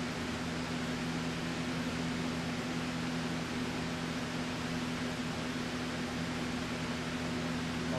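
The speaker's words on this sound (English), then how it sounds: "now it looks like there's something wrong with my printer" A malfunctioning inkjet printer with an ink cartridge problem gives off a steady, low, faint whir with a constant hum, unchanging throughout.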